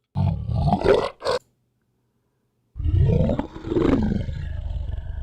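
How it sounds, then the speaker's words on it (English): A big-cat roar sound effect plays in two loud bursts: a short snarling roar with a clipped tail, a pause of near silence, then a longer, rolling growl-roar that fades out. "Roar."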